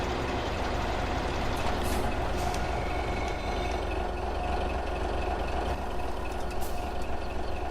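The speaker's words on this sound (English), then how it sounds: "These trucks don't want to get under there" Trucks in Farming Simulator 17 maneuver under a structure, with a continuous low engine rumble, hiss like air brakes and faint beeping, steady and fairly loud with no voices.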